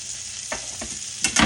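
Sweet potato fries sizzle steadily in a hot pan, with a few short scraping stirs and a louder clatter of the utensil near the end, all close and without talk.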